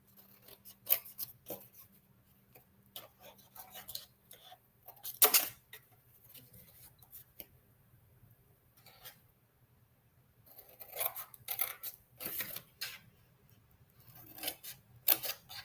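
Scissors snipping along the score lines of a cardboard box for a Halloween craft, in short bursts of rasping cuts with pauses between, close and fairly quiet.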